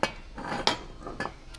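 A metal pot and coffee kettle clink and clatter as they are carried across a rural kitchen, several sharp metallic knocks and scrapes spaced irregularly, close by with no talking.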